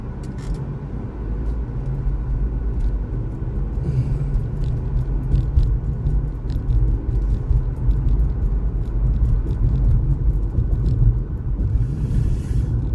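A car driving on a road, heard from inside as a steady, loud low rumble of engine and road noise through the whole stretch, with faint rattles and clicks over it and no talking.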